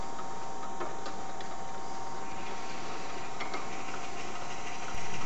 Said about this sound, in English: bore out the center of it. And we're boring it out to put in one of these threaded inserts.